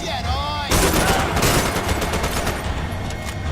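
Rapid automatic gunfire in a hardcore video game match, loud and close, a dense sustained burst that starts abruptly and continues throughout, with no talking over it.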